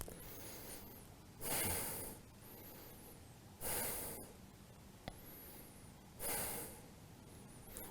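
Slow, deep breaths drawn in and let out through the nose while holding a yoga twist, three long swelling exhales spaced a few seconds apart, close and soft, with quiet room hiss between them and no talking.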